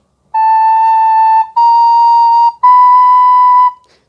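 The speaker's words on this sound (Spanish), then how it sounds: "El si bemol es una nota que está entre el la y el si, suena así" A recorder plays a clear B flat note three times in a row, each held for about a second with short gaps between, loud, close and pure-toned.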